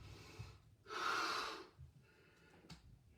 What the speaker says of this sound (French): J'inspire.